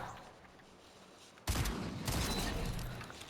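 Gunfire in Fortnite erupts suddenly after a quiet stretch, a loud dense burst of rapid shots that continues unbroken to the end.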